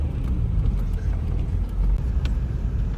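A car stuck in heavy snow reverses in steady low engine rumble and road noise, loud and close, with snowfall around and no clear voice.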